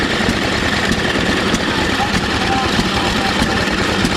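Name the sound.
antique engine-powered grinder grinding corn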